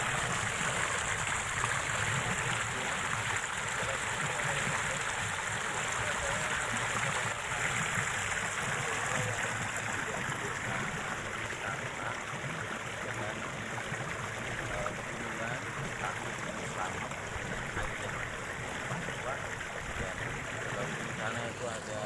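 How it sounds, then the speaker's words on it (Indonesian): Steady broadband rush of the Logawa River flowing nearby, a continuous even wash of water with soft gurgling, with people talking faintly in the background. "Sana itu ada kali ya. Kali Sungai Logawa."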